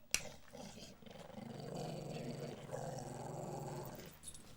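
Low, rumbling dog growl, faint and sustained for several seconds after a brief sharp click, close by with no other sounds over it.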